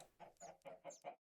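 Chickens in the Minecraft video game cluck in five quick, evenly spaced calls, close and clear, then the sound stops dead with no voices over it.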